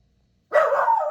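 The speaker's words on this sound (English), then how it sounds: "dog's having a fit because there was a couple of kids out front" Merlin, a dog, lets out a single loud, close bark after a silent moment, reacting to kids outside the house.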